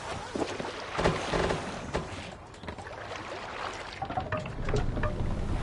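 Longship sailing on open water in Assassin's Creed Valhalla, a steady rush of wind and water washing against the hull, with splashes and creaks rising and falling throughout.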